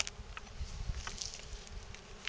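Honey bees buzz softly around an opened hybrid Dadant-Kenyan top-bar hive, a low continuous drone with a few insects passing close.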